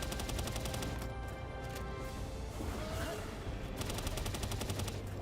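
Sustained rapid automatic gunfire in the video game Palworld, a dense loud fusillade of repeated shots running throughout with a few brief dips, no talk.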